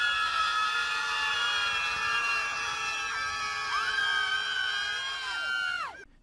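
A crowd screams with sustained, piercing high-pitched voices that hold steady for several seconds before abruptly cutting off.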